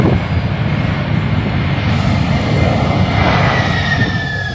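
Large jet airliner landing at an airport, a loud, continuous roar with broadband rumble and a rising whine, close and steady throughout with no talk.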